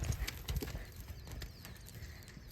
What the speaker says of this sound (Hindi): नर घोड़ा देखो आ रहा है